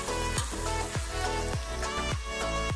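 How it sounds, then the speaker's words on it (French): Garlic sizzling steadily in a pan with yogurt in the dish, a close continuous frying hiss punctuated by regular soft scrapes of stirring. "Et l'ail en train de cuire."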